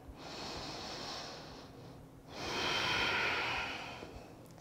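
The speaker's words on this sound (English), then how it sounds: "Big breath out." Long, deep exhale through the nose and mouth during a yoga session, two airy breath sounds close to the mic, the second one fuller and louder, with no talking.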